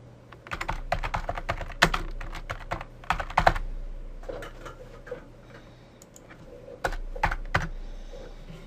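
Keys clatter on a computer keyboard as a display name is typed into CRM 2011 software, close-up irregular bursts of clicks separated by short pauses.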